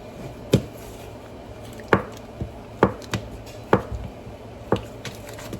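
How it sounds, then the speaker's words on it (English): Knife chopping an onion on a cutting board in a home kitchen, five or six sharp, evenly spaced thuds with small follow-up taps, close and clear over a faint background hum. "usually I chop up an onion and put it in there too"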